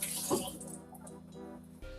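Faucet water runs briefly over vegetables in a kitchen sink, a soft splashing stream close by that fades out, then a low hum is left.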